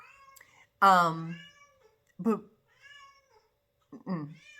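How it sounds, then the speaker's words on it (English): Several pet cats meowing in a home, three distinct drawn-out meows spaced a second or so apart, close and fairly loud, with a brief spoken word between them. "I literally have 5 cats."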